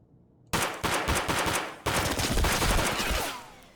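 Rapid automatic gunfire in the video game Escape from Tarkov, two loud sustained bursts of fast shots following a brief quiet start, dense and continuous with a short break between bursts.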